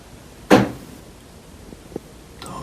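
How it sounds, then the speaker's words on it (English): Tapping in a quiet room at night: one sharp, fairly loud knock followed by a couple of faint, brief taps after a pause, then another soft tap near the end. "Those are the tapping noises I was talking about."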